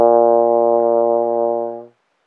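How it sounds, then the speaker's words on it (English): Trombone sounding B flat in first position: one loud, steady, warm brass tone with strong harmonics, held for about two seconds before fading out, solo with no talking. "B flat sounds like this."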